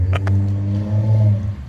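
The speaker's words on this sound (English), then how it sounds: "Man, this guy's going to burn out the clutch." A car engine holds a steady low drone with a slight rise and fall in pitch, loud and close, as the driver slips the clutch.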